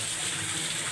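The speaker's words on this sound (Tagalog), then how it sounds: "ang ating ampalaya at ang ating kalubasa at ang ating talong. Ayan. Hugasan para malinis" Continuous gush of running water, as from a tap, while bitter gourd, squash and eggplant are washed clean for pinakbet; a loud, steady hiss alone with no breaks.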